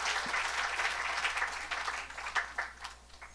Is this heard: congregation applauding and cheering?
yes